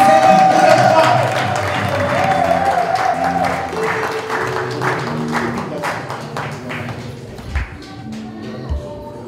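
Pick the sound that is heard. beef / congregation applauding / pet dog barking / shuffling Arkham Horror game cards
congregation applauding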